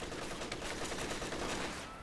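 Machine gun fire in a real-time strategy game, a dense, continuous wash of rattling bursts mixed with other battle noise, steady and loud throughout the short stretch without speech.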